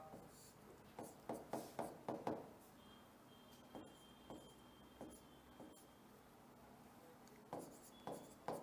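Pen or chalk scratching out a short list of answer options, a run of quick stroke bursts with pauses between, faint and close, with no talking.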